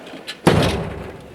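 A hardware junk drawer in a garage workshop during a Pontiac Firebird Trans Am engine build is yanked open with one solid thump, followed by a short rattle of loose contents settling.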